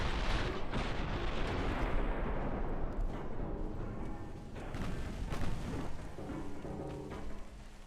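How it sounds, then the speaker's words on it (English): Heavy naval guns thunder in the warship game Ultimate Admiral Dreadnoughts, a loud sustained rumble of artillery booms rolling together with no voices. "Fire the guns!"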